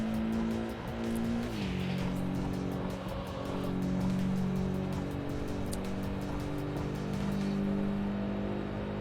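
Subaru racing in the Import Tuner Challenge video game, a sustained engine whine that steps down in pitch through gear changes and then holds steady, with faint game effects behind it.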